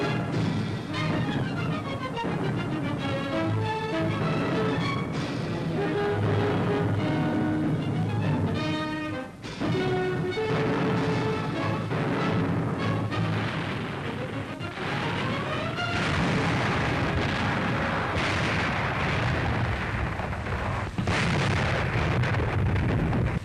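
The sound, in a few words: Fifth Army artillery guns firing at German positions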